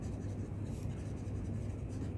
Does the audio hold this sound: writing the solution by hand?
yes